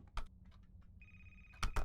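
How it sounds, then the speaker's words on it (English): A telephone rings in the video game A Place Forgotten, a single electronic ring tone over quiet clicks and taps, ending with louder bursts. "The phone's ringing!"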